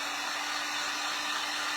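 A hair dryer blows steadily up close, a loud, even whooshing hum drying paint on a gingerbread door-hanger wreath, with no talking.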